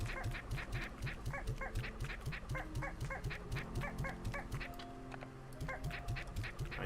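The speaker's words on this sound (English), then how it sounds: "Don't all fight over this one chicken." Squawking poultry calls from a crowd of chickens in Slime Rancher 2, a rapid repeated clucking chorus with a steady rhythmic pulse, loud and close, with no talking.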